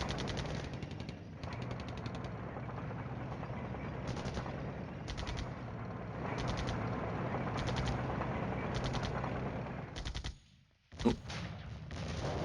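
Sustained bombardment gunfire in the Cold War wargame Flashpoint Campaigns Cold War, a dense continuous barrage of rapid machine-gun style bursts that drops out briefly near the end before a sharp single impact.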